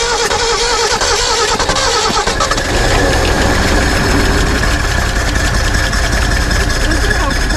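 A Ford Bronco's engine idling steadily after its first start in over 30 years, a continuous loud mechanical rumble throughout, with a brief rougher burst early on as it catches.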